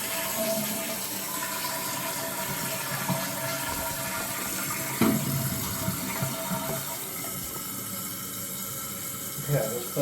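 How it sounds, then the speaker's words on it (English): A toilet flushes and refills, with continuous rushing, gurgling water running steadily for the whole stretch and a few soft knocks and clunks along the way. "let's give it a flush again"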